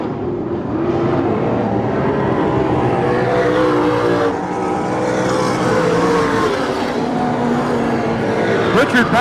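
A pack of stock cars races hard around the Hanford dirt oval during the Dirt Nationals, engines roaring loud and continuous with layered revving as cars pass, a commentator's voice running under the din.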